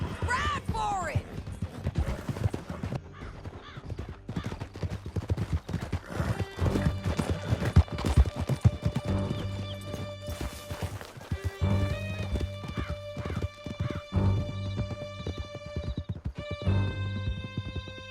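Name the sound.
horses galloping in Red Dead Redemption 2, from a video game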